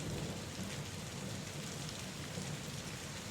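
Steady, dense rainfall hisses evenly and continuously, a soft uniform wash of falling rain with no other sounds.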